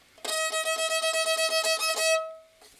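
A single high, bright bowed note on a violin's E string, sustained with a slightly pulsing bow for about two seconds, then fading away, played alone.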